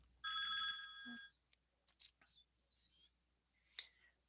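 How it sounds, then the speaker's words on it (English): A telephone rings loudly in one bright electronic burst during a call, then scattered clicks and small handling noises follow, with a short tone near the end. "Let's kill the phone call"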